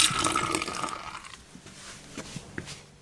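Water rushing out of a Coachmen Beyond Class B RV holding tank during a dump at home, a loud gushing flow that tapers off into scattered splashes and drips.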